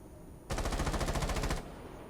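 Rapid automatic gunfire in a competitive video game match, a loud burst of evenly spaced shots lasting about a second that stops abruptly, leaving quieter game ambience.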